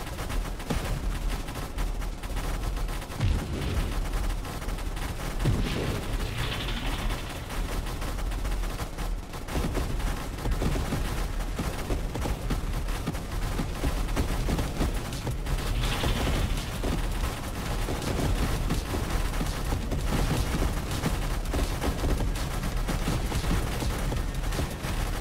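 Railgun spam from a broadside minigun build in a space video game, fired at space crabs, pounds out as a continuous, loud barrage of rapid shots and mechanical clatter with no letup.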